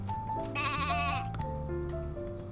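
Sheep in the farming game Pumpkin Days bleat in a steady, close chorus of overlapping wavering calls, one louder bleat rising above the others, over a light musical backdrop.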